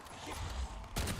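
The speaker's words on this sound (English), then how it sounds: "I missed that shot." Gunfire from a weapon in the Black Ops 7 Zombies video game, a dense burst of shots, the loudest crack near the end of the brief moment.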